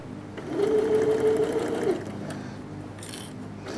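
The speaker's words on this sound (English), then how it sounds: "So we'll quickly stitch down there." A sewing machine runs in a steady whir for about a second and a half while stitching down a quilt lining, then stops, leaving quiet handling noise afterward.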